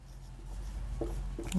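Chalk or marker writing on a board in a Hindi literature lesson, a few short faint scratching strokes near the end, quiet and close, with no talk over them.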